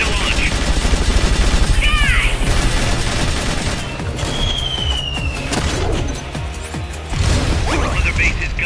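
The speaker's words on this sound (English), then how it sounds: "Supplies are loaded in the transport catapult. Fire away." In Metal Gear Solid: Peace Walker, a transport catapult launches supplies: loud mechanical clanks and booming bursts ring out over a dense bed of game noise, with a rising whistle partway through.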